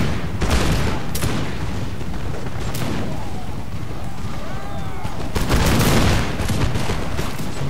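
Rapid, sustained musket volleys from soldiers in Napoleon: Total War, dense crackling fire with heavy booms rolling through the whole stretch, loud and continuous with a faint voice underneath.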